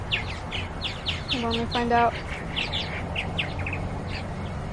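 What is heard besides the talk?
birds chirping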